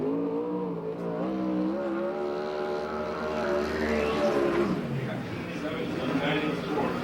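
A 360 sprint car at a USAC/CRA championship race in Perris, California, a DCR with an RC Performance engine, roars through its first lap with rising and falling engine pitch, loud and continuous beneath an announcer's voice.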